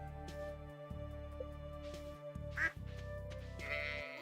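Ducks quack from a farming video game on New Meadowlands Farm, a few short calls rising over steady looping background music, with no talking.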